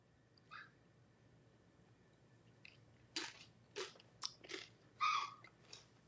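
Crunchy chips bitten and chewed close to the mic, several sharp crunches bunched in the second half after one early bite, with no talking.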